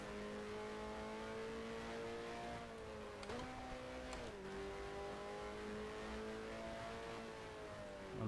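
A race car engine in the F1 Challenge 1972 game, French race, holds a steady high drone, then dips and rises twice as gears shift. The sound is loud and continuous, with no voices.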